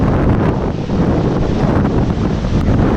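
Steady, loud wind buffets the microphone at a cemetery, a continuous rushing roar with no pauses, no voices and no other clear sounds.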